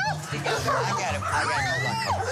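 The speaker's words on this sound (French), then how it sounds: "Robert ouvre la porte et il y a 15 chiens qui arrivent d'un coup dans le sas" A pack of about fifteen dogs, a Doberman among them, rushes into an entry airlock with excited yips, whimpers and barks, close and busy, while people talk over the commotion.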